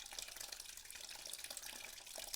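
Coolant drains in a steady splashing stream from a Yamaha Tenere 700 motorcycle during a coolant flush, pouring continuously into a funnel.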